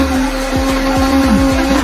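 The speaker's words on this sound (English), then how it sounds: "The blender dance." A blender whirs steadily while it blends a green smoothie of soy milk, plenty of water, chia seeds and fruit. The motor holds a loud, even hum, with a rhythmic thumping pulse beneath it.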